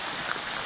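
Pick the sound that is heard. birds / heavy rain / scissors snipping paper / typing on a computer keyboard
heavy rain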